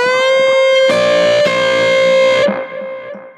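A sustained distorted electric guitar note on the 2nd string, 13th fret, bends downward as the whammy bar dives, ringing loud and close before fading into a lower, wavering tail.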